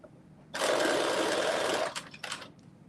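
A serger stitches a seam along the band of a cropped bodice, a loud steady whir lasting over a second, then a few shorter bursts as it finishes.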